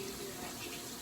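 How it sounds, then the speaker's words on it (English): Tap water running into a bowl meant for storing cut celery, a steady close rushing splash that fills the short moment without a break. "I'm just gonna put it in a bowl with some water and into the fridge"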